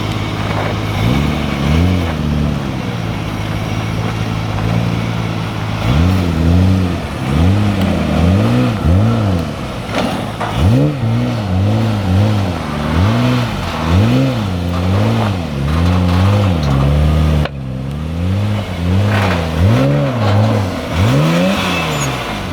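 A Nissan R32 GTR driven onto a trailer: a loud, close engine that revs up and down repeatedly in rising and falling surges, with a steady idle between blips.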